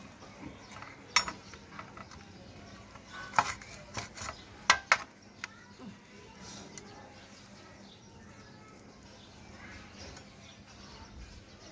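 A kitchen knife chops food in a handful of sharp, uneven knocks clustered in the first half, close by, then fades into quieter room sounds with soft rustling.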